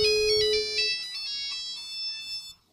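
Ringtone from a Nokia Brick mobile phone, a short run of bright electronic beeping tones that plays for about two and a half seconds at moderate volume before cutting off.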